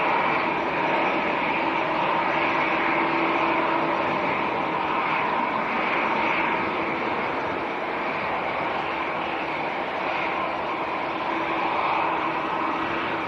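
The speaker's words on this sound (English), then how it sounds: "The Qatar 777 on the taxi." A Qatar Boeing 777 airliner taxis at Manchester airport, producing a steady, continuous engine roar and whine at moderate distance that stays even throughout, with no voices.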